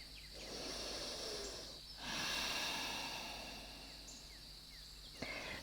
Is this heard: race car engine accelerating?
no